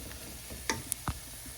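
Onion and spices for lamb chili frying in a pan, a quiet sizzle with a few stirring clicks and scrapes, faint and close, without talk.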